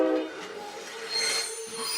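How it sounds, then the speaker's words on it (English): The Blue Train, a South African passenger train, squeals and hums as it rolls along, a loud steady metallic whine of wheels with a sustained tonal ring and no voices. "It's time to wave goodbye to the blue train"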